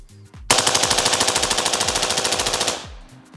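A CMMG Banshee rifle chambered in 5.56 with an ARC setup fires a long, rapid full-auto burst of about two dozen sharp, evenly spaced shots, loud and close, ending abruptly with brief mechanical clatter around it.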